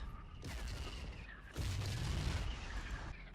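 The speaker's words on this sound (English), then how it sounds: "They're going to shell me anyway" Booming tank shell fire and explosions in Battlefield 1942, two heavy blasts roughly a second apart followed by a rolling rumble and scattered gunfire, fairly close and loud, with no speech.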